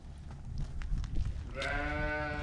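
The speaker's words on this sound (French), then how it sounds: "c'est là où il y a ce qu'on appelle des agnelles. Donc c'est des jeunes brebis, des brebis qui n'ont pas encore eu d'agneau" Several young ewe lambs in a sheepfold, one bleating clearly and sustained near the end after softer shuffling and rustling in the pen, with no talk.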